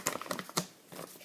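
Paper flap being folded and tucked while making an origami rhombic prism: quick, soft crinkles and taps in a close, uneven run, with one sharper crease sound in the middle.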